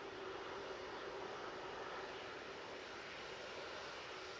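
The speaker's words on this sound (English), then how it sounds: "We've got two ATR props and a biz jet." ATR turboprop aircraft engines at Manchester Airport give off a loud, steady broadband roar with a faint droning hum underneath, continuous for several seconds with no voices.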